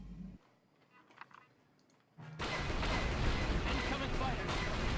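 Gun turret blasting at Sith fighters in Knights of the Old Republic: after a quiet stretch with faint sounds, a loud dense barrage of firing and explosions erupts and continues steadily to the end.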